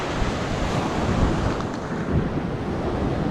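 Ocean waves wash and break continuously nearby, a broad steady roar of surf mixed with wind buffeting the microphone.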